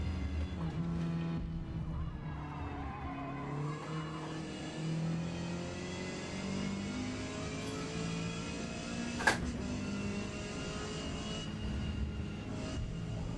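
A race car driving in the Forza Motorsport video game: a steady, droning engine whine that holds and rises in pitch across gear changes, with a brief sharp click partway through.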